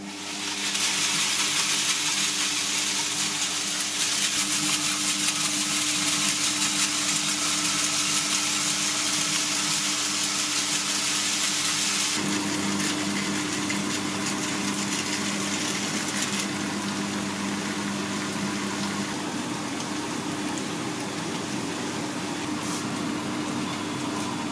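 A Monsieur Cuisine Connect food processor cooks spaghetti in vegan bolognese with plant-based mince at 100 degrees, speed 1, in reverse rotation, putting out a steady mechanical hum and whir that shifts tone partway through and runs on without a break.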